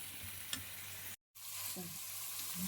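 Chopped green chillies are stirred into a mixture frying in a pan, with a steady close sizzle and soft scraping of the spoon, briefly cut off by a moment of silence.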